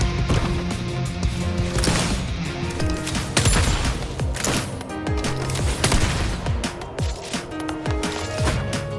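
Dense, rapid gunfire bursts repeat throughout a fight in the Wuthering Waves video game, loud and layered over a busy backdrop of game effects.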